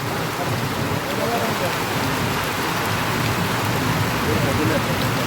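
Heavy rain pours steadily at Dreak Eidgah in Rawalakot, a loud, even hiss of drops on surfaces that holds without a break from start to finish.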